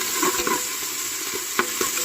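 Green chillies and onions (one large plus one medium onion) frying in a pan for a simple veg biryani, a steady soft sizzle with a few brief stirring scrapes and clinks, close by with no talk.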